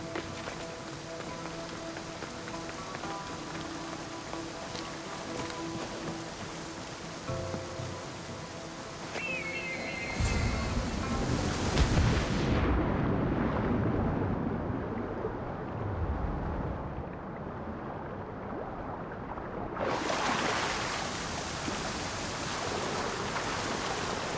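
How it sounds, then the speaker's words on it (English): A waterfall in the video game Assassin's Creed Odyssey gives a steady, loud roar of rushing water that swells sharply partway through, drops back briefly, then surges again near the end. "This is the waterfall."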